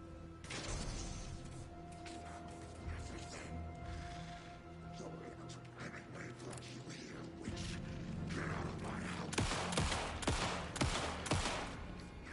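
Gunfire in Alan Wake II aimed at an enemy, with a run of sharp shots and rattling impacts building toward the end over a dense, tense game soundscape, while a person talks throughout.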